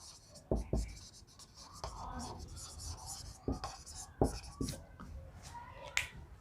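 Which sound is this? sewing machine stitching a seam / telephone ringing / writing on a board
writing on a board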